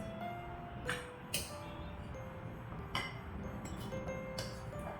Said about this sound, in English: I will transfer this into a glass jar so that the fruits enjoy a good boozy bath